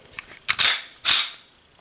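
A Taurus TH40 pistol dry-fired in single action: light mechanical rattling, then two loud, sharp clicks about half a second apart, close up, each one ringing briefly before fading. No one speaks.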